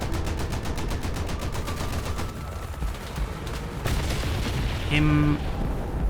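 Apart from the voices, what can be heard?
gunfire from tank shooting at aircraft in War Thunder video game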